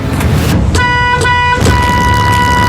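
A school bus horn honks loudly and steadily, a sustained tonal blast that breaks off briefly and then resumes. The bus sits close by over a low rumble of road noise, with no voices.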